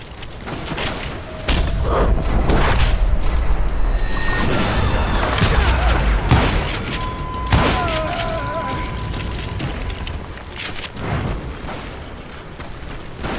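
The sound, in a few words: gunfire shootout in video game Call of Juarez Gunslinger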